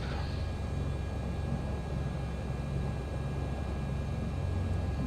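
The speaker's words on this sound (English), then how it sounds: "We'll run the boost pump." A fuel boost pump runs in a flight simulator during a twin-engine aircraft start sequence, producing a steady, even hum that holds constant throughout with no talk over it.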